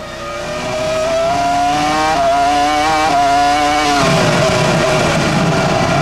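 Formula 1 race car onboard at the 2003 Hungarian Grand Prix, Montoya's car: a loud, continuous high-pitched engine scream that steps up through gears with brief drops, close and steady throughout.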